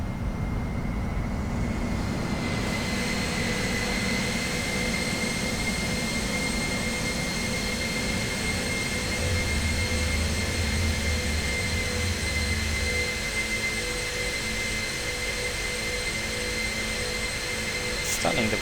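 Jet airliner engines roar steadily through a takeoff run in a flight simulator, a heavy cargo flight from ESSA to ENGM. Whine and rumble stay loud and constant throughout, with no talk.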